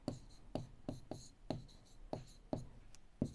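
A pen or chalk taps and scratches out a handwritten equation, giving sharp, evenly spaced strokes about every half second, close and fairly quiet in a calm room.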